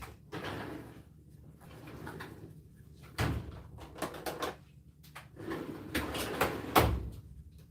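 Several drawers or cupboard doors opened and shut in quick succession during a rummage for a makeup palette, bursts of sliding and knocking with short pauses between, close and moderately loud.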